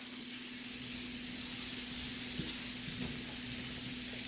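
Food sizzling in butter in a skillet, a soft, even, continuous crackling hiss with a low steady hum beneath it, fairly quiet and uninterrupted.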